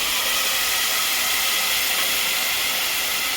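Tomatoes dropped into hot tempered masala on a lowered gas flame give a steady, close, loud hissing sizzle that holds evenly throughout with no talking.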